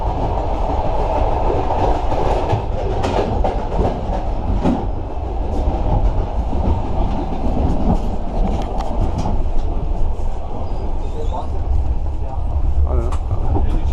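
Sleeper train carriage rolling steadily on the rails with a continuous low rumble and faint clatter, heard from inside the wagon while people talk nearby.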